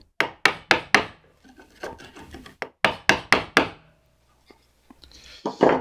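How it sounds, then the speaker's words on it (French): A 20 mm wood chisel pares and pries along a sliding door joint, giving a run of sharp, close woody knocks in quick rhythmic bursts, then quieter scraping and a few faint taps before another short rasping stroke. "je prends un ciseau de 20. Donc voilà, je commence par décoller tout le long comme ça"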